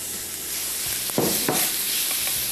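Onions and beef fry in a pan for a Hyderabadi-style dish, giving a steady, close sizzle with a few sharper bursts of crackle as the pieces are stirred and shifted.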